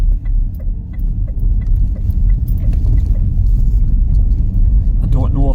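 A car drives through Durham toward the cathedral, with a steady low engine and road rumble from inside the cabin and someone speaking briefly near the end.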